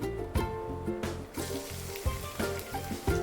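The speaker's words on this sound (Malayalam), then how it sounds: "ഇനി നമുക്ക് മീഡിയം ഫ്ലെയിമിൽ നന്നായിട്ടൊന്ന് വഴറ്റിയെടുക്കാം." Chopped onions with cinnamon, cardamom, cloves and bay leaves sizzling in hot oil on the stove, a close, continuous crackle broken by several stirring knocks against the pan, with no talk.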